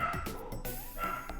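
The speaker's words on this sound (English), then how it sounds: "Of course the dogs are going to go off right now" Dogs yapping and whimpering off to one side, a few short bow-wow barks and whiny yips scattered through a brief, fairly quiet stretch.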